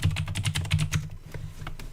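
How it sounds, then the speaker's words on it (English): Rapid, uneven clatter of keys on a computer keyboard, close and fairly loud, with a steady low hum underneath and no talking. "I'm sorry I'm typing so much."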